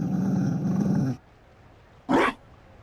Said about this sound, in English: You found a dog?